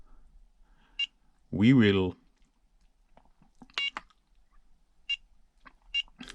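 An RC car radio transmitter (DumboRC DDF-350 or HotRC CT-8) gives several short, sharp lap-timer beeps spaced a second or so apart, mixed in with brief spoken words.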